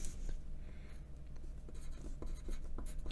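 A pen scratches across paper in short, irregular strokes and pauses, close and fairly quiet, as seed phrase words are written down by hand.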